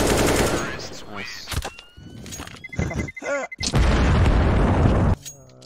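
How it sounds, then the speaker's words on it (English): Counter-Strike gameplay crowded with dense gunfire bursts and booms, including a flashbang grenade blast, all loud and close, with harsh noise bursts between brief gaps. "Flashbang!"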